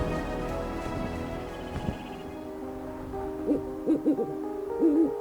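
A snowy owl on the Arctic tundra gives a few short, low hoots near the end, faint and set against a steady tonal drone and soft background hiss.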